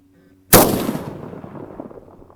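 A single loud rifle shot at a long-range target around 550 yards cracks sharply nearby, then rolls off in a long echoing boom that fades over two seconds, with no talk.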